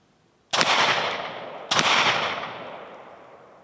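Two sharp, loud shots from a Kel-Tec PMR30 pistol about a second apart, each ringing out with a long echoing decay at an outdoor range.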